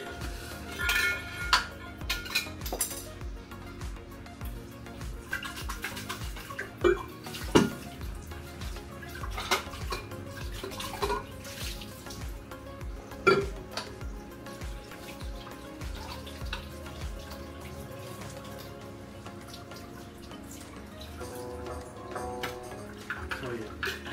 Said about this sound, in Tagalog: Hugasan ko muna itong tumbler ni Andre.